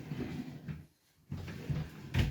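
A t-shirt drawer slides open with a close, soft wooden rumble and a couple of bumps, loud and alone with no talking.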